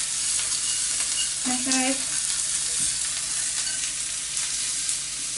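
Onions sizzle and crackle steadily in a frying pan, a constant hiss throughout, with a brief spoken word over it.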